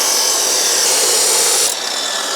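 An aluminium part stripped from a Hyundai Veloster 1.6T is being cut with a grinder, giving a loud, steady, harsh abrasive whine that runs alone and then drops off sharply near the end.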